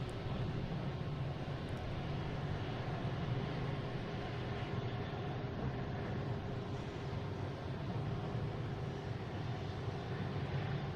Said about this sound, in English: another Delta taking off here